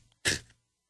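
A single short sneeze, close and fairly loud, bursting out abruptly and fading within half a second against near silence.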